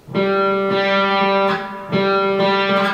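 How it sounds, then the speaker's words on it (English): A single open G string on an electric guitar sounds twice, each sustained and ringing with a slightly effected, buzzy tone, close and clear. "And then we're going to play the open string, the G."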